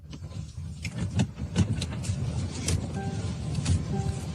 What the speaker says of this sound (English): Look how aggressive she's driving behind him.